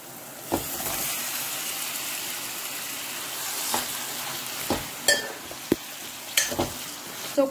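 Chicken pieces added to browned onions fry in a pan for a chicken curry, a steady hissing sizzle broken by several sharp knocks of a stirring spoon against the pan.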